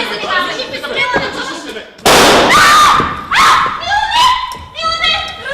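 Pistol gunshots at a wedding in Bulgaria, one sharp loud blast followed by a couple more bangs amid shouting voices and a barking dog, with people talking excitedly.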